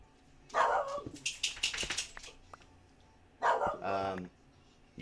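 A pet dog barking in two short bursts near the microphone, the first followed by clattering knocks and thumps, with a pause of quiet before a second bark.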